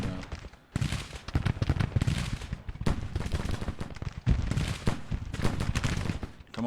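Rolling musket volleys from Civil War regiments, Union and Confederate, trading fire in a video game battle, dense crackling bursts of gunfire pausing briefly between waves, fairly distant and continuous.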